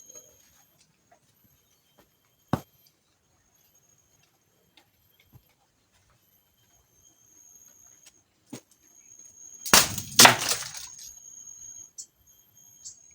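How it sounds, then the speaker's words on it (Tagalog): A tin can is crushed inside a rural hut, making a loud crunching burst that lasts about a second, with a few scattered faint clicks and taps before it in a mostly quiet room. "Durugin mo yung lata na yan."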